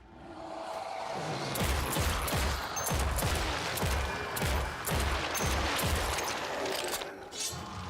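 Pistol gunfire in the video game Project Warlock 2, a rapid string of sharp shots fired in quick succession over several seconds, loud and punchy with clanking mechanisms and booms mixed in.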